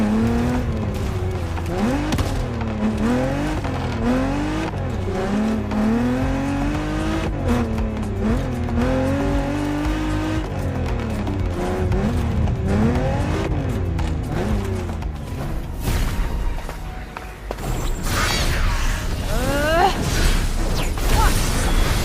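Racing car engines in the video game The Crew Motorfest rev up and down through repeated gear shifts, with tire squeals and a burst of louder roaring near the end, continuous and close under a voice talking.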